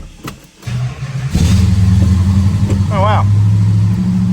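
A 1969 Plymouth GTX muscle car with a 440 engine starts and settles into a loud, rumbling idle with a few revs, close up, while a person briefly exclaims over it.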